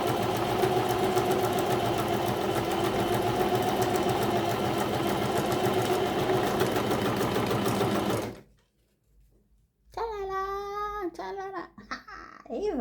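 A new sewing machine running in a test, a loud steady mechanical whir close up for about eight seconds, then stopping abruptly, followed by a short silence and then a voice speaking.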